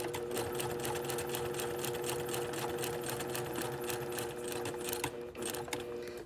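Sewing machine set to a 2.5 millimeter stitch running steadily across the bottom edge of fabric, a fast, even, close-up mechanical whir and clatter that eases off briefly near the end.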